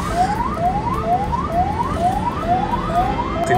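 An ambulance siren wails through a traffic jam, a loud wail that rises and repeats about seven times without a break, with steady traffic rumble underneath and no talking.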